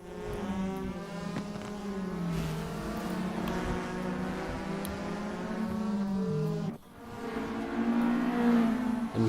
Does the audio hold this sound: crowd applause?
no